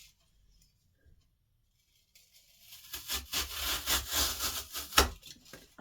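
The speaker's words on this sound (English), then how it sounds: "I just rub two pieces, rub them together, and it smooths it" Two pieces of material rubbed together to smooth them while making an artificial sympathy tribute heart, heard as a run of close, rhythmic scraping strokes that start after a quiet opening and grow steadily louder.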